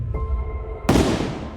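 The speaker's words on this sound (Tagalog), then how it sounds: "itinapat sa ulo ang baril saka pinaputok" A single sharp gunshot bursts out loud after a faint, tense background hum, then rings and decays over the next second, a staged firearm shot in a dramatised Filipino aswang horror story.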